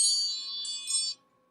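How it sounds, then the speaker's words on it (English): An iPhone alert chime rings out as a bright, shimmering bell-like tone with layered high overtones, sustaining for about a second before cutting off into near silence. "That sound right there is not Pink Floyd Dark Side of the Moon, but instead the chimes of my iPhone"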